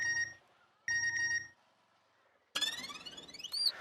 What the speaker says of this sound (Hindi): उठाइए उठाइए सुंदर भैया, फोन उठाइए।